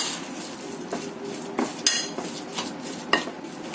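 A spoon stirs a siomay mixture of carrot, corn, garlic and seasonings in a bowl, giving several irregular clinks and scrapes against the dish, close and clear with quiet gaps between.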